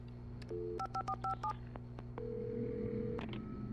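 Telephone keypad being dialed in the video game Alan Wake Remastered: a series of distinct DTMF touch-tone beeps in quick rhythm, followed by a longer steady tone, over a low background hum.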